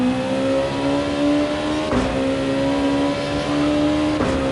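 Race car in a multi-class road race downshifting into first gear and then powering up a hill, with a close, loud engine tone that climbs steadily, broken by brief shift gaps.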